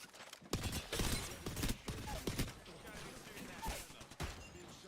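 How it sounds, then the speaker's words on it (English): Gunfire in a video game, with scattered sharp shots of uneven spacing cracking over busy background action noise, some close and loud, others fainter. "Being shot at."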